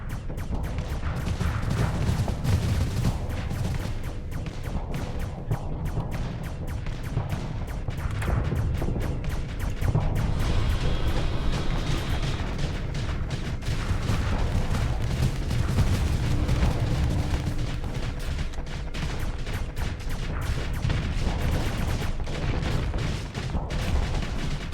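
Space combat in the game Starsector, with ship weapons firing and shots striking the hull. The barrage is steady and dense, with booms and rumbling impacts that carry on without a break for the whole stretch.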